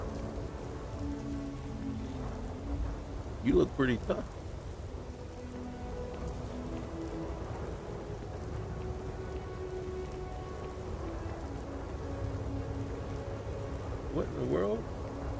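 Heavy rain pours steadily in a Starfield game storm, with thunder rumbling low beneath it and a brief spoken line breaking through near the start and again near the end.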